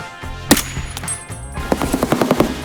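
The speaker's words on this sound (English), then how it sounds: "Shots close." Nearby gunfire in the shooter game Escape From Tarkov: a sharp single shot, a pause, then a rapid burst of about eight shots with a distinct rhythm, loud and close over low ambient game noise.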